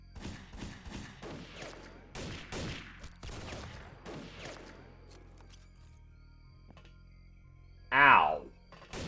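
Rapid gunfire volleys crack in quick bursts during a turn-based XPiratez battle against nomads, several loud shots clustered together before a quieter stretch and a brief vocal grunt near the end.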